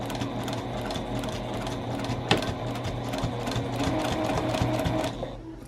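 Sewing machine back stitching through layers of a canvas tote bag, a steady close motor whir with fast needle rhythm running for several seconds before winding down at the end.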